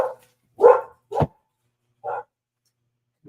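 Dogs give several separate barks, spaced about half a second to a second apart, after a man has walked outside without them. The barks are moderately loud and fairly close in a quiet indoor setting, with no talking.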